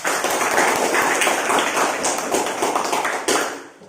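Classmates in a classroom clap together in sustained, dense applause that lasts several seconds, close and loud, then tapers off at the end.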